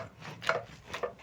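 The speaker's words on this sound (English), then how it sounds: "using a potato masher, I'm going to mash my bananas" A potato masher works through cooked green bananas in a few soft, squelching presses that are quiet and close.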